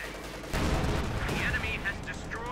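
Gunfire and explosive blasts from a World War II battle in Company of Heroes 2, a dense continuous barrage starting sharply and rumbling on with scattered higher crackles, heard under a commentator's voice.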